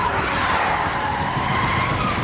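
A stolen car speeds away with its tires skidding and squealing, a loud, continuous screech with engine roar that holds steady throughout, heard alone without voices.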